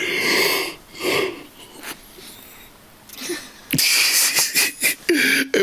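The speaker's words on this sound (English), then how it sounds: "I just yawned and it was crazy" A person yawning during a podcast recording: loud, close, drawn-out breathy vocal swells that rise and fall several times.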